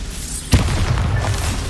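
A Bombarda spell blast in the video game Hogwarts Legacy: one sudden booming burst, then a lingering rumbling tail under steady game ambience.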